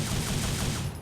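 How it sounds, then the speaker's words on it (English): Rapid gunfire in the Devil May Cry video game, a dense continuous burst of shots at close range lasting about a second, with no talking. "His bullets are made of demon magic, so he can just shoot forever"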